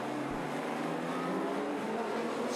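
Super Rod racing cars run at the Brayfield circuit, with a continuous engine drone that carries on without a break and stays moderately distant, and no voices are heard.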